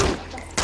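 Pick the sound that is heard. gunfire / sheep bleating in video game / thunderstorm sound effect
gunfire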